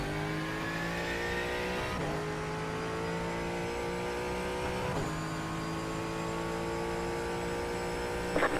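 Ford Mustang GT4 engine in iRacing at Sonoma held in fourth gear, a steady droning rev with strong harmonic whine that dips at two gearshift-like breaks, close and loud with no talking.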